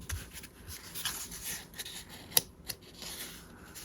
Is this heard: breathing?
no